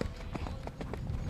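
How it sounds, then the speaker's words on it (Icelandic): Hooves of a well-gaited Icelandic horse, Fjalla-Eyvindur from Blönduós, clip-clop in a quick, even rhythm at moderate distance over a steady background rumble. "Lagsmikill hestur."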